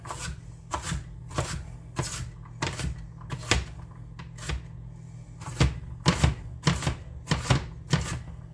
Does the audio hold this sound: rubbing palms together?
no